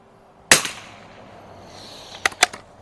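Shots from a Winchester model 47 .22lr bolt action target rifle fired with Aguila Super Extras at a range: one sharp crack, then after a pause two more close together, each short and loud.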